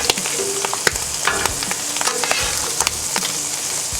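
Ham steaks crackle and sizzle steadily on a hot Blackstone griddle, loud and close, with sharp pops and a few spatula scrapes as they are turned over; no talking.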